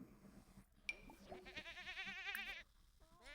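A mini goat, Goatzilla, lets out one wavering bleat lasting about a second, close and clear against a quiet indoor background.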